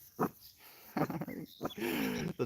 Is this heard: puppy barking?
yes